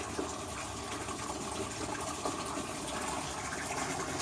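Current Eflux DC pump running at full 100% power in an aquarium sump, a steady, fairly quiet rushing and gushing of water that stays even throughout with no talking.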